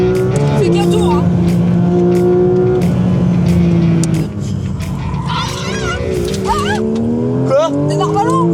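A car laps a racing circuit, its engine droning loud and close, with rising revs and squealing tires as it corners, while voices call out over the noise.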